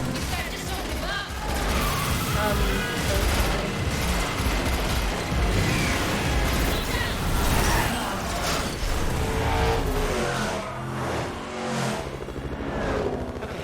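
Gunfire in The Matrix Awakens, rapid shooting mixed with roaring car engines and mechanical clatter in a loud, dense chase scene, with voices talking over parts of it.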